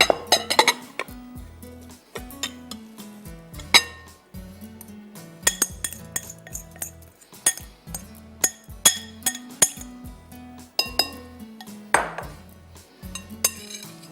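A spoon mixes a stuffed green chilli filling with fresh coriander in a bowl, making repeated close clinks and scrapes against the dish in an uneven rhythm. No one speaks.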